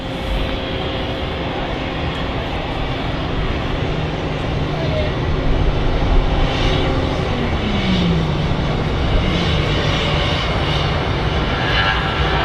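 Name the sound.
Ryanair aircraft taking off at Manchester Airport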